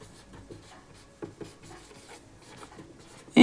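Scratchy writing strokes on a board during a lecture on electric permittivity, faint and intermittent with short clustered bursts, ending in a louder scrape; no one speaks.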